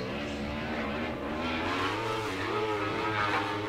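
An SR1 UTV race vehicle's engine revs hard at Glen Helen Raceway during a short-course race, a loud, sustained buzzing roar with rising and falling pitch and no talk.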